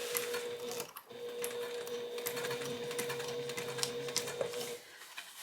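A sewing machine stitches a long seam down a travel bag panel, a steady fast mechanical whir with rapid needle clatter running continuously and fairly close, easing off near the end.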